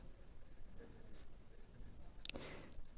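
Numbers are written on a board during a class 7 maths lesson, making faint, brief scratching strokes over quiet room tone.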